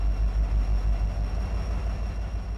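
A diesel locomotive engine idles steadily in the Run 8 train simulator game, a loud, continuous low rumble with a faint high whine, alone without talk.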